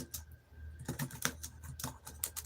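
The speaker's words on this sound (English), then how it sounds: "I'm typing up a survey." Fingers tap quickly on a computer keyboard while a survey is filled in, close and fairly quiet, in bursts of clicks with short pauses and no speech.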